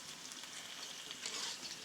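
Sliced onions fry in a pan with a soft, steady high sizzle at low volume, rising slightly near the end, with no voices.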